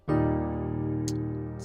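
A single E flat piano octave is struck once, firm and resonant, then sustains while slowly fading, with a faint tap partway through.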